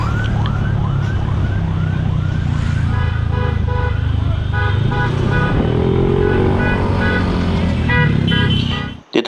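A roadside caravan of cars and motorcycles in Betis, Pampanga, passing with repeated horn toots and siren-like wails over a steady engine rumble, loud and close, with some voices faintly in the mix.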